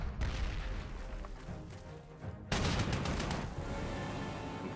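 Units in the Panzer Corps 2 wargame open fire in a sustained burst of overlapping gunfire and booms, with a sharper, louder volley breaking in midway and continuing densely to the end, with no talk.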